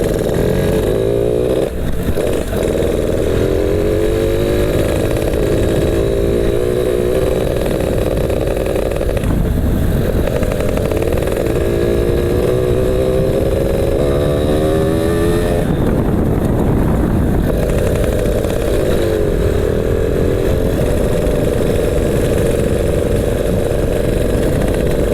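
A Yamaha Alfa motorcycle fitted with a racing CDI is ridden on a rough road, its engine droning loud and close throughout, with several rising revs through the gears and brief dips between them.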